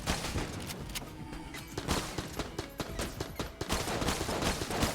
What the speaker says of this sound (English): Brother Alban is shooting at us.